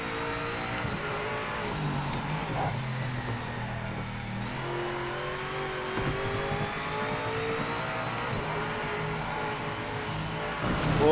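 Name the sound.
BMW GTE race car engine, throttle feathering at Spa, Project Motor Racing video game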